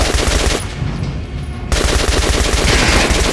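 Rapid automatic gunfire from the video game Metro Last Light, loud dense bursts of shots that drop out briefly mid-stretch before resuming hard and close.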